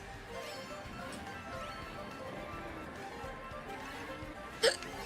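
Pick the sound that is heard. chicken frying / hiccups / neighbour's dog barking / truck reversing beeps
hiccups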